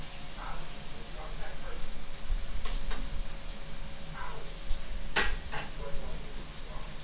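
Food sautés in a pan for saltfish with ackee, a steady sizzle and popping running under the stirring, with occasional utensil clinks and a sharp crackle near the end.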